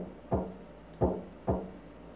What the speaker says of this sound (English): I hit the door a little harder than before.